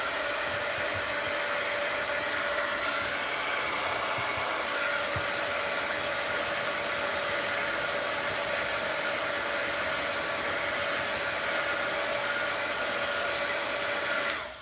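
Heat tool blowing steadily to dry a mixed media art journal page, a constant whirring hiss with a faint tonal hum that holds even for about fourteen seconds before cutting off at the end.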